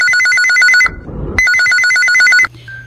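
A telephone ringing for an incoming call to a Hindi phone-in request radio show: two loud, bright electronic trilling bursts separated by a short gap, ending abruptly as the line is picked up, with no talking.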